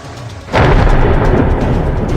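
A deep rumble of thunder rolls in suddenly and keeps booming loudly over steady rain noise during a storm in Savarkundla, Lathi and Liliya, Gujarat.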